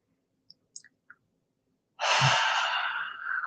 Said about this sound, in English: It's a complete diaphragmatic breathing.